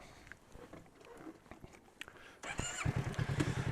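A motorcycle moving slowly through U-turn practice, quiet at first with light scuffs, then a closer engine burble rising and pulsing over the last second or so.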